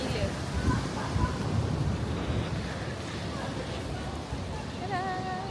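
Strong wind roaring across an open outdoor spot in Jeju, a steady broadband rush that buffets the microphone throughout, with people talking faintly underneath.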